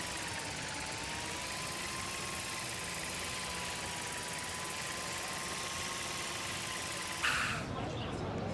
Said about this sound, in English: Here, give the drone a whirl around campus.